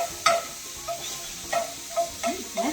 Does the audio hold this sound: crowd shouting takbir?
no